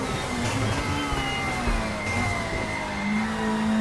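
A 90s supertouring race car screams at full throttle around Bathurst in a racing game, a sustained high engine whine that climbs through the revs with a steady, loud drone.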